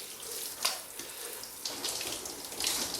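Shower water running and splashing steadily, a bright hissing spray with a few louder bursts of splatter as the stream shifts, heard alone without voices.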